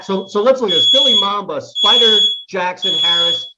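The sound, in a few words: fire alarm beeping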